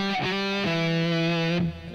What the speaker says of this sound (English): You can slide 1 fret